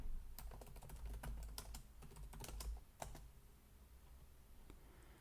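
Typing on a computer keyboard to search, a quick burst of close, crisp key clicks that thins out into a few isolated taps near the end.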